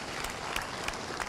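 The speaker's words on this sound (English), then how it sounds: "you have helped me wake them up by clapping" A lecture audience claps in a brief, scattered burst, sounding moderately distant and soft in the hall.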